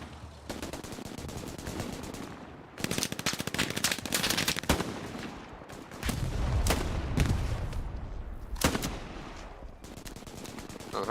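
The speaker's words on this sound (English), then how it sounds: "I'm missing all these shots." Rapid bursts of automatic gunfire and single rifle cracks in the World War II shooter game Hell Let Loose, dense and loud with short pauses between volleys and a low rumble of distant explosions.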